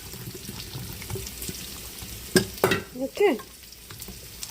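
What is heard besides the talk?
food cooking in a pan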